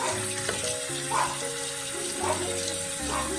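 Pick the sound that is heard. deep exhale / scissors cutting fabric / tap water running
tap water running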